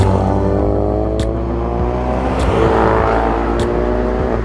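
A Ford Focus RS accelerates hard on twisty mountain roads, its engine droning loud and close with a steady, sustained rising whir and no voices over it.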